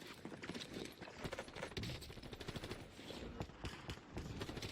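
Rapid, sustained bursts of MP40 submachine gunfire in Call of Duty Warzone, dense and continuous throughout with layered game effects and no talk.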